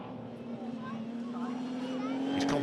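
Rallycross race car engine in second gear pulling hard out of a chicane at the Devil's Elbow during a Supernational and S1600 meeting, one steady rising drone that builds in loudness, with a commentator talking over it throughout.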